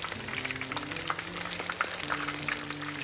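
Fish frying in vegetable oil for fish and chips, a dense continuous crackle and bubbling close up, with scattered pops and no voices.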